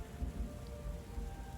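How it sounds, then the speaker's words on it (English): Stormy ambience from the video game Book of Hours: steady rain-like wash of crashing waves with low rumbling thunder underneath, dense and unbroken, no voices. "Thunder growling, waves pounding"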